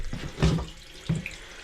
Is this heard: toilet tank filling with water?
yes